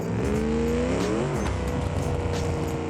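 Car engine driven hard in the BeamNG driving game with a manual transmission, a loud, steady engine drone with rising and falling revs and a brief shift dip, continuous and close throughout.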